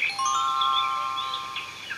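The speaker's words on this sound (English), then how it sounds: "When it's time to turn the page, you'll hear the sound of the bell like this." A bell on a children's storybook cassette rings once to signal a page turn, a clear sustained chime ringing out over faint background hiss.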